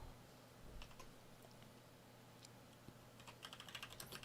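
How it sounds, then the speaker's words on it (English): Keys on a computer keyboard tapped in short, scattered bursts, quiet and close, with a sharper run of rapid clicks near the end over a low steady hum. "I will even type Y."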